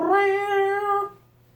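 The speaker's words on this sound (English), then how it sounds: "And the cat has joined us." A pet cat named Lola gives one clear, close meow, tonal and drawn out for about a second before it fades into quiet.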